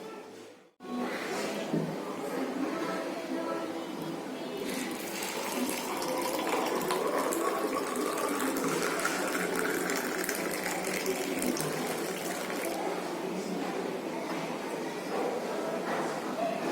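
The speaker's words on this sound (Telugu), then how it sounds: "ఇంకా మనం వడకట్టుకుందాం." A hot homemade jaggery drink being strained: a steady, continuous pouring and trickling of liquid, fairly close, lasting well over ten seconds without a break.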